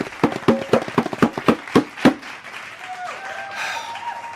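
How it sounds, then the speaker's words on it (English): A short burst of clapping, a dozen or so sharp claps over two seconds, then it fades out as a faint tone and background hum carry on. "Please hold the applause."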